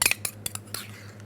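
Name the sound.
stirring cake batter until smooth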